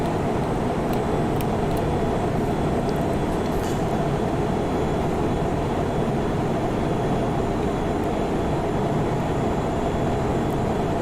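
Airliner taking off at high thrust in the FSX flight simulator, a loud, sustained broadband jet roar with a steady rumbling low end and no breaks, close and filling the whole span.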